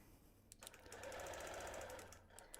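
A sewing machine stitches through a quilt without batting, the needle running in a fast, steady rattle that starts and briefly pauses before continuing, close and fairly loud, with no talking.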